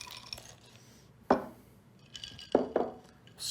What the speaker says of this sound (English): And then we're going to add some ice to our glass here.